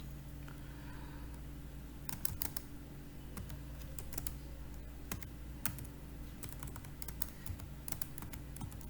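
Steady bursts of clicking keystrokes on a computer keyboard, close and moderately quiet over a low hum, with short pauses between runs of typing.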